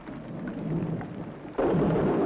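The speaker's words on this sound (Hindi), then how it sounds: "केवल ये वर्षा नहीं सही जाती।" Heavy rain pours steadily while a low thunder rumble rolls beneath it, the downpour swelling noticeably louder partway through, with no voices.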